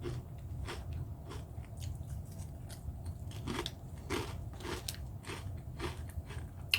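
Repeated crisp crunches from chewing bacon and lime flavored Ruffles potato chips, close and fairly quiet, in an irregular rhythm of bites with no talking.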